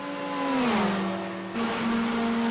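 A Porsche race car in a sim racing 24-hour event passes close by, its engine note rising, sweeping downward as it goes past, then holding steady, loud and alone.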